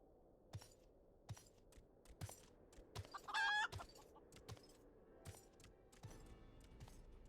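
An enlarged chicken in the video game Final Fantasy XIV gives a short, faint cluck amid scattered clicks and soft game effects, the rest of the scene quiet.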